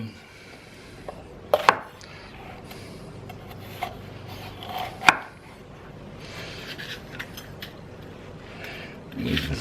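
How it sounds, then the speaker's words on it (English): A sharp HOSHANHO Loong Series kitchen knife slices green and red peppers on a cutting board for vegetarian chili, giving a few scattered close knocks and soft scraping amid quiet kitchen room noise. "Now I use I use green pepper and red pepper, just for some color"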